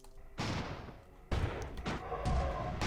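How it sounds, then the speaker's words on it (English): Harpoons and weapons firing from an airship in Conquer the Skies, heard as heavy booming bursts that start abruptly, one after a short pause and then another, each followed by dense rumbling blasts and crackle. "Firing harpoons out"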